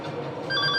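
A telephone rings after a number is dialed, its short repeated electronic trill faint over a low background hum.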